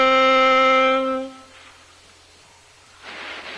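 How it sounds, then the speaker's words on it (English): A saxophone holds one sustained note A, fingered with the first two left-hand fingers, for about a second and a half before fading into quiet room noise, played alone. "So A sounds like this."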